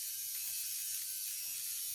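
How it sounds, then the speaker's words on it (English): A small Flawless Brows eyebrow shaver buzzes steadily and close while trimming brows, with a constant high whir and faint mechanical rattle running for two seconds. "What I'm doing now is just using this Flawless Brows shaver"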